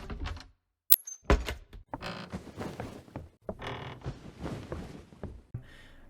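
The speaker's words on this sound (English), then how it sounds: "Closets and beds creaking whenever you enter and exit them." Creaking wooden closet doors and beds in the Roblox game DOORS, heard as a sharp thunk followed by drawn-out creaks and shuffling mechanical noises, close and fairly quiet.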